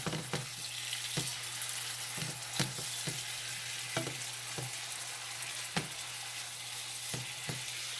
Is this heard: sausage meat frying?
yes